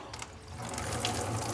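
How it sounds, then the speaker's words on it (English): Water runs from a tap into a rabbit litter tray holding a little disinfectant, a close, steady splashing rush that builds slightly over a moment, with no talking. "Add water."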